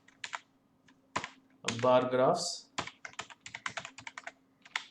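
Quick, uneven keystrokes tap on a computer keyboard while labeling bar graphs at a mathematics workshop, with a person speaking briefly in the middle of the clicking.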